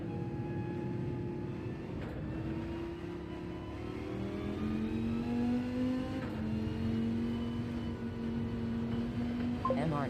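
Race car engine in Gran Turismo 7 on an out lap: a steady, droning engine note that climbs gradually in pitch as the car accelerates, continuous and fairly close for the whole stretch.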